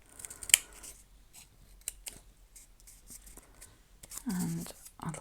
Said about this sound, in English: I'm going to cut a little bit off there